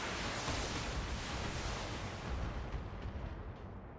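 Mech weapons in the BattleTech video game fire all at once, making a dense, roaring wall of explosive noise that holds steady for several seconds before starting to fade, with no talking over it.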